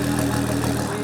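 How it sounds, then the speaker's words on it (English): A 2006 Ford GT supercharged V6 of about 700 horsepower idles and rumbles loudly up close on an auction block, a dense steady engine roar with no talking. "That's what 700 V6 horsepower sound like"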